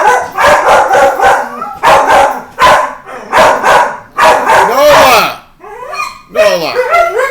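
A tall dog stands up at a window, barking and yipping loudly and repeatedly close by, with a few whimpering notes between the bursts.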